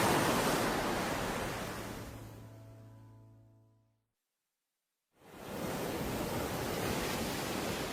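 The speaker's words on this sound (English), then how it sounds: "Welcome to the ocean" Ocean waves wash onto the shore in a loud, steady roar of surf that fades into near silence midway, then resumes at full strength.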